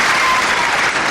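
A wrestling crowd at Dunstable breaks into loud, sustained applause, a dense wash of clapping filling the hall with no pause.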